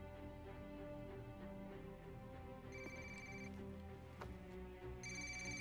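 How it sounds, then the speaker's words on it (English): A phone rings during a cutscene in Ghost Recon Wildlands, with two bursts of electronic ringing over a low, steady game soundtrack, faint and with no talk. "You're going to want to answer your phone, Officer Bowman."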